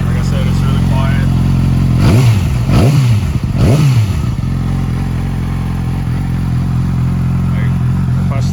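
A 2012 Yamaha R6 sport bike engine runs close by at a steady, smooth idle, with a few quick throttle blips rising and falling in pitch early on before settling back to an even hum.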